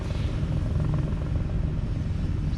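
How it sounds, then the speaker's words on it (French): A helicopter passes overhead in Australia, heard as a steady, fairly loud low rumble with a faint rhythmic throb, continuous throughout with no voices. "Évidemment, il y a un hélicoptère qui passe à ce moment-là."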